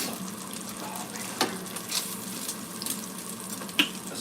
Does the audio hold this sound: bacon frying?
yes